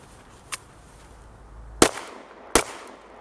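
A Glock 19 Gen 4 pistol fires at an outdoor shooting range: a faint distant shot, then two sharp, loud close reports about a second apart, each with a brief echo.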